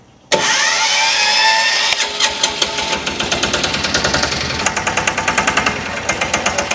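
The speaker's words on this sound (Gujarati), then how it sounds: "ચાલુ કરીને જ ભાઈ આપણે જોઈ લઈએ કે ચાલુ કરવામાં કેવી મજા આવે" An advanced modern sanedo farm vehicle's engine cranks and catches with a sudden loud roar, then settles into a fast, close, rhythmic knocking chug, like a single-cylinder diesel idling.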